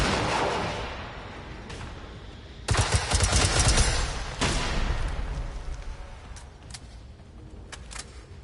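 Sustained rapid gunfire from the video game Generation Zero aimed at a tank, with a loud dense burst starting midway and tapering into scattered, fainter shots and impacts.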